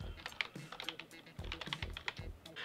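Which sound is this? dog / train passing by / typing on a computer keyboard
typing on a computer keyboard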